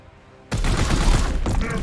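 Burst of gunfire from the game Warhammer 40K Chaos Gate: Daemonhunters erupts after half a second of quiet, then keeps up as a dense, loud volley with a brief dip near the end.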